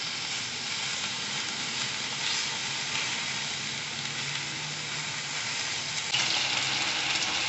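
Potatoes on high heat and meat on low sizzle together in a pan with oil, a steady, dense frying hiss that runs continuously and swells slightly louder near the end, with no talk.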